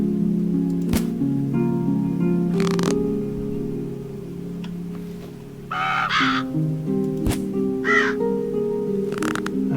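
Crows caw repeatedly while birds are shot at in a video game, with sharp gunshot-like cracks scattered between the harsh calls and a low background drone.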